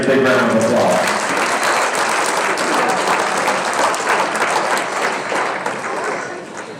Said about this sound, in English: let's give every kid that came to this ring a big round of applause